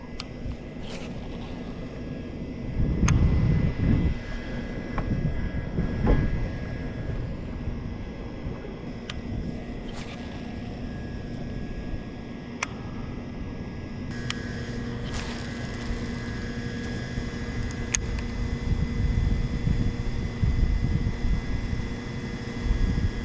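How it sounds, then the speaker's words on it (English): A huge pump runs at a private rock quarry in winter, giving a steady, loud mechanical drone with low rumbling and a few heavier thumps and surges along the way. "Now this is a huge pump"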